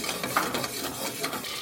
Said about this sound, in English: throw all your butter in. This pan has been heating up. You're just going to melt your butter.